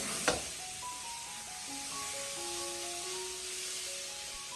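Mushrooms stir-fried over high heat in a wok give a steady, loud sizzling hiss throughout, with a sharp clack near the start and faint tonal notes in the background.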